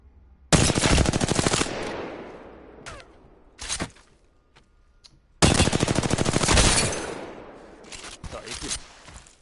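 Video game gunfire, two long rapid automatic bursts of close, loud shots with short single shots between them, voice talking in the background.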